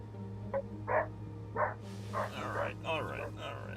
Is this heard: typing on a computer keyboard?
no